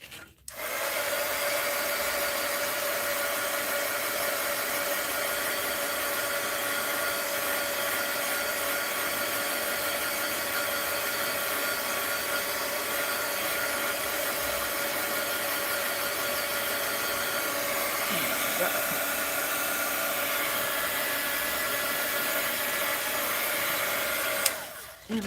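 A hair dryer runs steadily and fairly loud for about 25 seconds, drying paint on an art journal page, with a constant whirring hum that starts and stops abruptly and has no talking over it.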